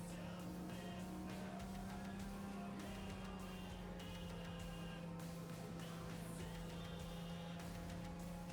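A car cruises on autodrive in Cyberpunk 2077, giving a steady, even engine drone with a constant low hum and light road noise throughout, no talking.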